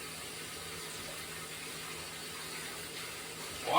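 Tap water runs steadily into a kitchen sink as hands are rinsed off, a constant close hiss that swells slightly louder at the very end.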